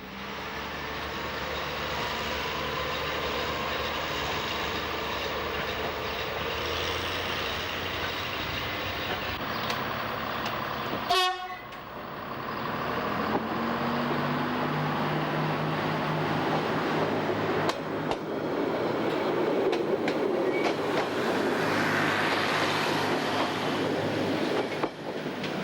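The X 97050 autorail railcar on the Corsican railway rumbles steadily along the track with wheel clatter and engine drone, a sharp squeal or horn-like burst about midway, then continued rolling noise building in loudness.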